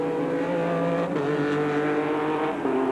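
Formula Holden open-wheel race cars at Mallala circuit in 1990, engines droning at high revs in a sustained steady roar, with pitch shifting slightly as gears change, loud and continuous with no talk.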